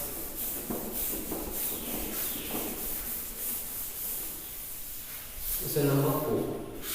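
A classroom board is rubbed clean in a maths lesson, with repeated scraping strokes at a moderate level, followed by a voice near the end.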